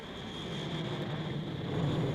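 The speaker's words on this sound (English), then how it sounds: "And Claude Tremond's personal jet." Private jet at a country airport, a steady, fairly quiet engine drone with a faint high whine held evenly throughout, no voices.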